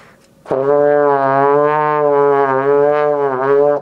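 Beginner brass player holding the note D, the tone wavering unsteadily in pitch and volume for about three seconds, loud and close, alone with no talk.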